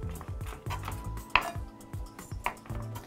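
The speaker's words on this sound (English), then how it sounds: "Just give this a little bit of a chop." Knife chopping fresh herb leaves on a cutting board, a handful of close, soft irregular knocks with one sharper clack of the blade, no talking.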